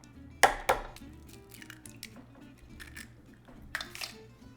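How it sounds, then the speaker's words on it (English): Eggs cracked one after another into a bowl while a spinach frittata is being prepped: two sharp, close shell taps early on, then quieter drips and clinks, with no one talking. "we are going to crack 6 eggs into a bowl"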